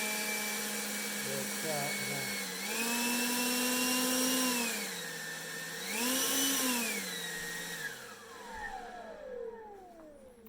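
Husqvarna 436 LiB handheld battery leaf blower spinning up indoors, a whining motor that climbs to a steady drone, surges in pitch twice, then winds down, with a brief spoken remark near the start.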